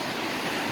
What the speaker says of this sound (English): look at that beautiful white water and everything, guys